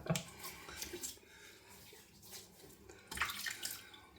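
Water splashes and trickles close by as a face is wetted at a sink before a shave, in several irregular bursts with quieter pauses between.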